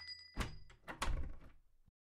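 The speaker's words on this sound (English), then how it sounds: "She smiles, shuts the door, and locks it." A door shut with a solid thunk, followed by a second heavier knock and rattling clicks as it is locked, quiet and close with no voices.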